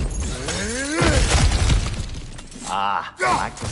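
Objects shatter and break in a fantasy video game, a crunchy burst of smashing debris followed by scattered clatter, heard close alongside character voices.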